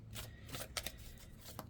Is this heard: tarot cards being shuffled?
yes